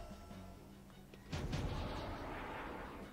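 Gunfire in the Septerra Core video game, a quick burst of several muffled shots fired in a short rapid cluster, followed by a lingering low rumble, fairly faint with no voices.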